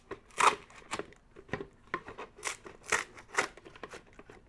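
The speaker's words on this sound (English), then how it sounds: "To cut, I just lean the pruner against the rim so that it's always the same height" A hand pruner snips through heliconia flower stems in a series of crisp, close cuts with small crunches between them, at an uneven pace.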